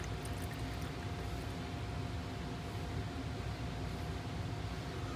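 Isopropyl alcohol and windshield washer fluid pour into a small bottle in a garage, a steady, fairly quiet splashing gurgle that runs unbroken throughout.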